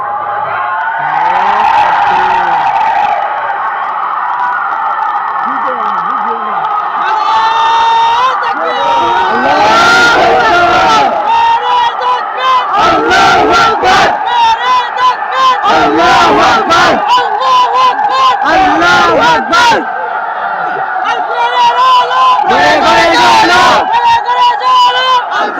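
A crowd at an outdoor Islamic sermon gathering chants slogans together, loud, rhythmic bursts of massed voices rising and falling in repeated waves that fill the whole stretch.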